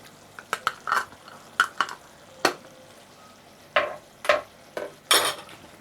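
Raw mango being stirred into pumpkin curry in a pan: a run of short spoon scrapes and clatters against the metal, with a soft sizzle underneath and a few louder strokes toward the end, no talking.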